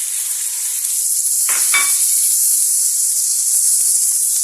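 Onions and peppers sizzling steadily in hot oil in a pan, with a brief louder hiss and clatter as chopped medium tomatoes are added, then continuous loud frying with no talking.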